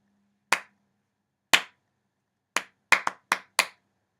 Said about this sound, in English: An example of this would be the claps at the beginning of this song.